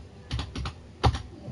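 Brief bursts of computer keyboard typing while someone plays a tennis game on keyboard during a live broadcast: a few quick soft key clatters, a short pause, then one firmer keystroke, close and quiet.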